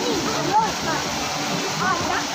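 Flowing water rushes in a continuous loud wash, like a nearby waterfall or stream, with faint voices mixed in beneath the noise.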